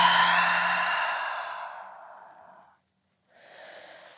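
Audible exhale in postpartum yoga, a long breathy release fading over a couple of seconds, a brief pause, then a softer breath beginning; close and alone, no talking.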